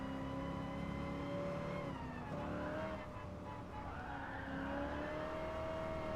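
A race car driving in Gran Turismo Sport, a continuous high engine whine that rises and falls with gear changes and throttle, steady and loud without talk.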